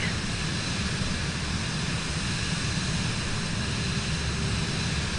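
An airliner powers up for its initial takeoff in Microsoft Flight Simulator 2024, its jet engines giving a steady, loud, broadband roar that holds constant throughout without talk.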